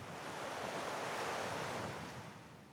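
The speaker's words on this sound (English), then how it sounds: "carving its own path against the beach with the gentle roars of ocean" Ocean waves roll onto a sandy beach in a steady, soft roar, with wind noise mixed in and no voices, fading slightly toward the end.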